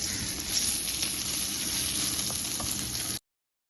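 Chillies frying in a pan, a loud continuous sizzle with crackling spatters, close and steady until it cuts off abruptly.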